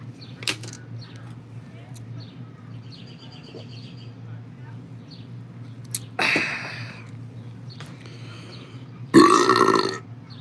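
Two loud, close belches break through a steady low background hum, the first rough and drawn out, the second louder and more forceful, while a person's voice is present.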